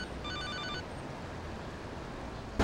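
A phone rings in the video game GTA Liberty City Stories, with a short burst of electronic trilling tones near the start of a dull, murmuring game background.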